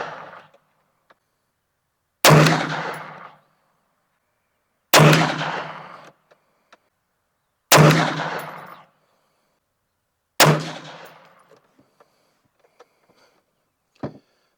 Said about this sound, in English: So let's shoot another 5-shot group at the top left target.